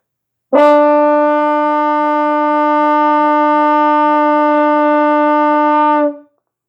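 A single sustained brass note A, played by a school band instrument, held steadily for about five and a half seconds, bright and loud, then cut off cleanly.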